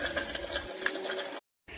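Steady water stream rinsing a kitchen hood filter in a sink, a close continuous splashing rush that cuts off briefly, then resumes for a moment.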